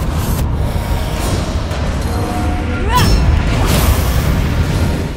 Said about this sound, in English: Hit you with a couple of fire spells here.